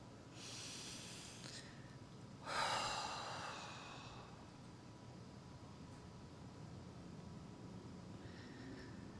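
Slow, deep relaxation breaths during a guided breathing exercise: a soft, breathy inhale-exhale swell stands out in the middle over a quiet, hissy background, with lighter airy breaths just before it and a faint one near the end.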